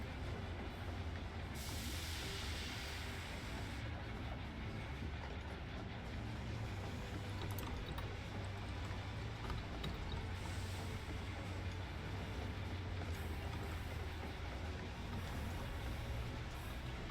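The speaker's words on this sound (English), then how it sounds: "Yeah, it's a steam engine." Steam engine train in Final Fantasy XIV rumbling steadily along the rails, a continuous low chugging and rolling noise at moderate level with no talk.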